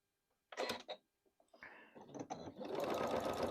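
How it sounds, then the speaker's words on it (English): Quilt pieces are handled with a few sharp clicks and knocks. Then a sewing machine starts and runs in a steady, close whir along a marked line, using 60 weight cotton thread. "we are literally sewing from one edge"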